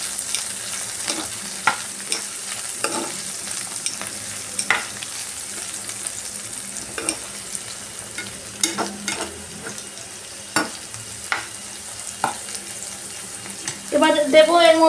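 Eggplant and spring onions stir-fry in a pan with a steady sizzle, punctuated by repeated sharp scrapes and clacks of stirring; a voice starts briefly at the very end.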